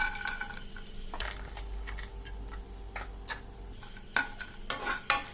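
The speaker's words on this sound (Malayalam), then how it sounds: "അപ്പൊ നമുക്ക് കുറച്ച് തേങ്ങാക്കൊത്തൊന്ന് ഫ്രൈ ചെയ്തെടുക്കണം." Coconut pieces fry quietly in a pan for payasam, a soft low sizzle with scattered clicks and taps of a spoon stirring, fairly faint and without speech.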